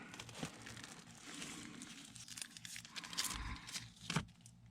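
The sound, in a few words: tape being torn and applied around inner duct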